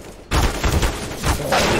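A player sprays gunfire through a wall in a Vitality versus TeamSpirit competitive shooter match. A loud burst of rapid shots starts after a short near-silence and carries on in quick, dense succession to the end.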